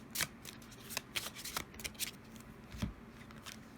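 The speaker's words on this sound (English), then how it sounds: "So let's draw you a final card, a flower card" Oracle flower cards being drawn from a deck during a pick-a-card reading, giving a series of soft, quick papery flicks and shuffling rustles close by, with no talking.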